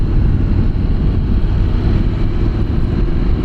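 Motorcycle engine pulling away under acceleration after being put into gear, a steady loud low-frequency roar blended with heavy wind buffeting on the microphone throughout, no voices.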